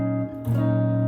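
An electric or acoustic guitar rings a chord barred across the 4th fret on the top strings in standard tuning, from the pre-chorus of a song, sustaining clearly after a brief pause.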